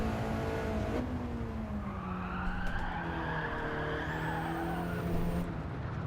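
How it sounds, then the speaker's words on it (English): Car tyres skid and squeal as a racing video game car slides wide past the apex, a sustained screech over a steady engine drone, with no talking. "Oof, I'm sliding past the apex."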